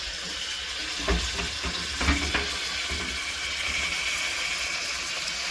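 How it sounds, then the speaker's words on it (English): Collard greens for gumbo fry in a pan with a steady broad sizzle, plus a few soft knocks of stirring, close and continuous throughout. "I'm going to fry these down"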